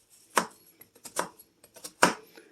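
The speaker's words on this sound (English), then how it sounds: "We're going to go ahead and prep this onion here. And cut it right in half." A knife cuts through an onion on a cutting board for a meatless pantry dinner, giving three sharp, close chops with a few lighter taps and knocks between them.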